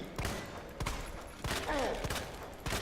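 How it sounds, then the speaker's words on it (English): Handgun fire in Resident Evil 2, four spaced sharp shots over a continuous game background with a faint creature cry in between. "Just keep shooting his shoulder."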